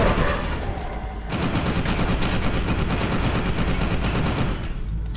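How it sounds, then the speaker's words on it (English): Rapid automatic gunfire in the F.E.A.R. 2 video game, loud and continuous bursts of closely spaced shots after a brief quieter lead-in. "I was shooting him in the face."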